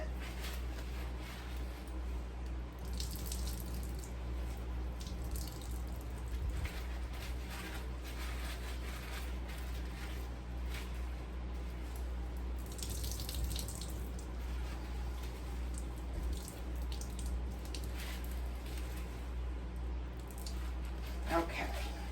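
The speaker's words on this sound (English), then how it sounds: "you let it sit for about an hour and then go back and squeeze it again" Liquid is squeezed by hand out of prepped food for meal prep salads, giving steady wet squishing and dripping over a constant low background hum, with no talk heard.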